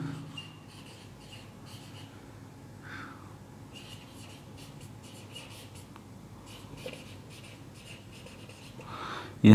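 A marker scratches across a lecture board in short, irregular strokes and bursts, close and fairly quiet, with a soft thump at the very end.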